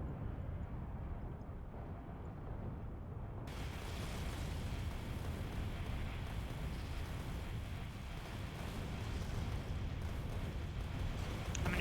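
Rumbling rocket blasts strike a biter nest in Factorio, a continuous loud roar that swells and stays heavy throughout.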